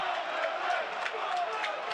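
A football stadium crowd at a Premier League match between Burnley and Newcastle roars in a steady, distant wash of voices, with swelling shouts rising from the stands.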